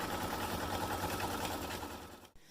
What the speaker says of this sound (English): so now we're going to stitch out the next stitch